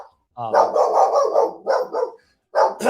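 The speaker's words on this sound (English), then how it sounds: "There's my dog because someone's driving down the street." A pet dog barks at a car passing down the street outside a home, a run of loud, close barks in quick bursts with short pauses between them.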